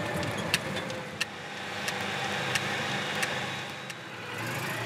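A Citroën Méhari, kept clean and well maintained, runs with a steady engine purr that sounds fairly close, with faint sharp ticks recurring about every half second.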